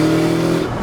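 A Subaru WRX STi Hawkeye engine drones with a steady, low exhaust note, heard close and fairly loud. It is brief and fades slightly toward the end.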